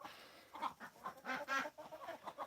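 Chickens cluck inside a farm coop in a quick, irregular run of soft, fairly faint calls with no voices.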